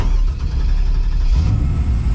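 A 1964 Chevy with a freshly swapped 4L80E transmission runs steadily on its first road drive, a loud continuous low engine rumble that swells slightly partway through.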